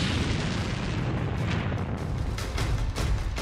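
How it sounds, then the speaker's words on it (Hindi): A tank explodes after a Lancet drone strike in the Russia-Ukraine war: a loud, continuous roaring blast with dense rumbling noise and no voices. "इसके बाद ये टैंक जलता रहा और फिर हुआ ऐसा धमाका।"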